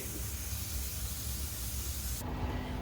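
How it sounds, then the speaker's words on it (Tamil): A pressure cooker on the stove, cooking beef curry, releases its steam in a loud, steady rushing hiss that runs without a break and shifts in tone just before it stops. "நாம் வச்ச குக்கரில் வந்துட்டு முதல் சிட்டி வந்துடுச்சு"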